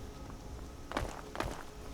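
Footfalls of the player character in the video game Skyrim: two clear steps in quick succession close by, set against a quiet, steady game ambience with no speech.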